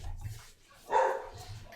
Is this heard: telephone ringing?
no